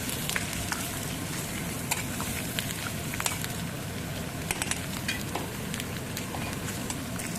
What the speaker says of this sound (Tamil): நல்லா ஒன்றா பீட்ரூட் போட்டு நல்லா கலரி விட்டுக்கோங்க